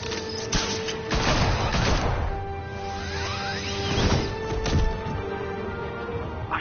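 Gunfire in the Batman Telltale video game: a dense, chaotic burst of shots, crashes and whooshing impacts roars continuously at close range, with a couple of heavier bangs standing out amid the clatter and no voices.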